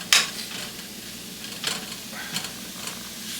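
Raw shrimp sizzle and hiss in a hot pan after the heat has been raised, a soft steady crackle broken by a few sharper spits and stirring scrapes, with no talking.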